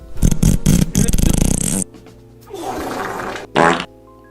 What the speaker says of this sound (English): They got some wet farts on there.